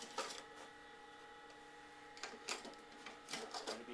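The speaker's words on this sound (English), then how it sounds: "So I'm going to just screw this down." A screw is driven down into an old IBM PS/2 computer case, giving faint metallic clicks and scraping in short bursts over a steady electronic hum.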